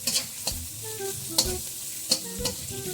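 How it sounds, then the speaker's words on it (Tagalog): Chili being stirred in a hot frying pan for spicy tofu, a steady close sizzle broken by several sharp scraping stirs of the utensil against the pan. "Ilagay sa kawali. Halu-haluin para hindi masunog."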